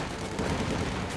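A burst of MG42 machine gun fire in the video game Company of Heroes 2, rattling steadily against a dense battle din. The fire is fairly loud and sits among other combat noise, with no talking.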